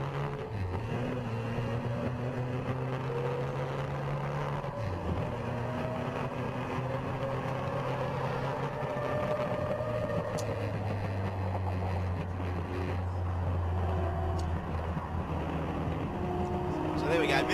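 Mazda 767B race car at WTAC accelerating hard down the main straight, its engine note rising and falling steadily for the whole stretch, loud and continuous with a voice talking over it.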